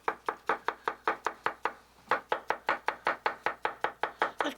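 A knife finely chops a dill pickle on a board in quick, even strokes, with a short pause partway through, close and crisp with no talking.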